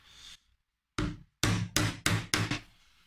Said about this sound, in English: I've just got an old screwdriver that I don't really care too much about, and I'm using that to dig away some of the wood around the nail